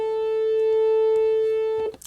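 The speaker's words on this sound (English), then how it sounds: "That is the sound" Two A strings sounding together in perfect unison, one steady sustained tone held for nearly two seconds before cutting off abruptly into a brief rustle.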